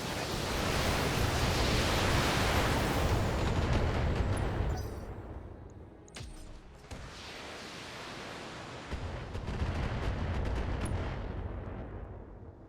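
A mech in the Battletech video game unleashes an alpha strike, firing all its weapons in a loud, dense roar of blasts that dips briefly midway and then surges again, with no speech.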